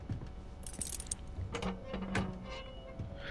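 Keys jingle as they are picked up in the video game Mafia 2, a few quiet metallic clinks and rattles close by, set against faint background ambience.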